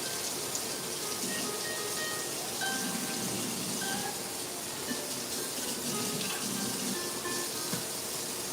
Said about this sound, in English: Give my knife a rinse.